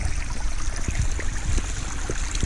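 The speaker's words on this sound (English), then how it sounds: "I'm gonna cross a spring on these rocks." Water of Roaring Brook Spring runs over rocks along a trail in Sourland Mountain Preserve, making a steady close rush and trickle with small splashing bursts and no talk.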